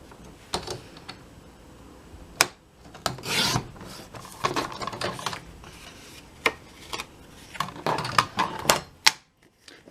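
Scissors snip through bookmark material during a craft project, a series of close, crisp cutting and rustling bursts in an irregular rhythm, with no talking.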